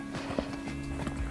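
A horse shifting its hooves while standing near the rider during mounting, a few soft close thuds and scuffs with faint background noise.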